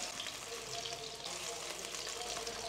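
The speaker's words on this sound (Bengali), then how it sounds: "তারপর আমি ইনোকি মাশরুমগুলো দিচ্ছি। মাশরুমগুলো 1 মিনিটের মতো সতে করব" Enoki mushrooms sautéing in a pan for pasta, a steady close sizzle and crackle of frying running throughout with faint stirring, no talk.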